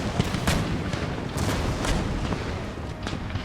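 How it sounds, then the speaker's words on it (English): Marines firing muskets during a ship boarding in the video game Empire: Total War, a ragged volley of overlapping gunshots and booms over a dense battle din, loud and continuous. "The Marines are firing."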